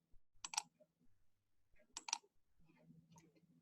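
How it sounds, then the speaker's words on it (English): Three short, quiet clusters of clicks on a computer keyboard, spaced a second or so apart in an otherwise still room. "I want to type over here."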